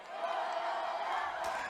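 A roaring student crowd at a high school varsity football game, the Franklin student body in pink, sustained and loud with a broad steady wash of voices and a brief louder swell near the end.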